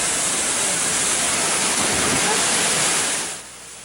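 Pangas Falls roaring steadily as a broad, loud wash of falling water, continuous for several seconds before easing off at the end.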